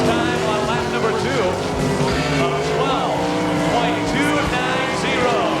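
A sprint car at an All Star Circuit of Champions event in Eagle, Nebraska, is driven through turns 3 and 4. Its engine screams loud and steady throughout, with the pitch rising and falling.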